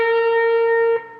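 A single guitar note picked at the 14th fret of the G string and bent up a half step rings clear and steady on its own, then is cut off abruptly near the end.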